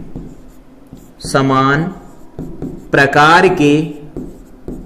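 Chalk or marker scratches out points on a board during a physics lecture on magnetism, short strokes between stretches of someone speaking Hindi over the writing.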